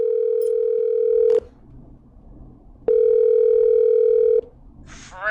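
Two long, loud, steady telephone ringing tones with a pause between them sound through the handset as a radio show calls back a listener, followed by the start of a brief click or pickup noise.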